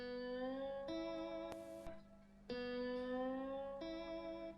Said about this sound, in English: All I'm doing here is I'm laying the bottleneck just behind the 3rd fret on the G string